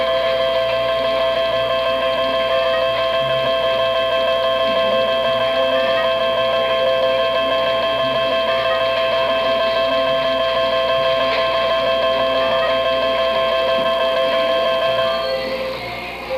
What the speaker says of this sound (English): your credits will ring up right here.